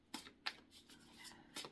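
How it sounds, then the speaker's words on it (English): A deck of cards is shuffled in quick riffles, giving soft, close, crisp bursts of flicking paper separated by brief pauses and a faint papery rustle. "I don't know why I keep shuffling"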